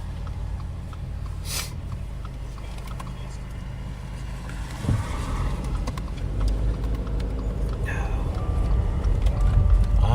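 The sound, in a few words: car passing by on the road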